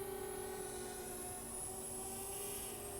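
A DJI Spark drone flying nearby gives a steady high-pitched motor whine with a constant drone tone throughout, no talking.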